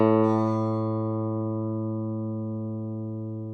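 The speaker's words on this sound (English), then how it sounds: "The last one that we have to find is A. That should sound pretty familiar because A is one of our open strings." A single guitar note A rings out clearly, plucked once and left to sustain, decaying slowly over a few seconds, close and alone.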